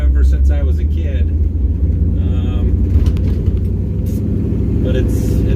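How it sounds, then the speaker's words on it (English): Heavy low rumble of a 1975 K5 Blazer with a stroked big-block 454 V8 while riding inside, a steady loud drone filling the cabin, with people talking over it. "We're riding in my 1975 K5 Blazer with a big block 454."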